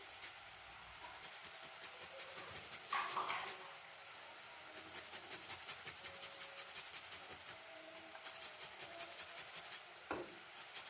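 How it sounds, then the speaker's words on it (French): Fresh ginger rubs against a grater in a run of quiet, repeated rasping strokes, close by and faint, with a few small knocks in between. "Je râpe un petit morceau."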